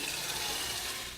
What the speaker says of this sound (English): put the kettle on the burner and start filling it with water